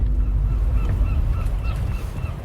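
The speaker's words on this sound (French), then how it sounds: "c'est un jeune goéland argenté" Young herring gull on the Breton coast at Lannion Bay giving several short, honking calls in an irregular series over a heavy low background rumble of wind or surf.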